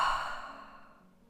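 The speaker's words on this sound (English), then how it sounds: "Take a big breath in through the nose and exhale through the mouth." A single yoga exhale through the mouth after breathing in through the nose, heard as a soft, close breathy sigh that fades away over about a second.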